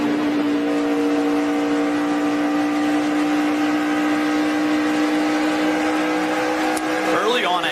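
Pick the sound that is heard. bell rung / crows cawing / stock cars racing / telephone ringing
stock cars racing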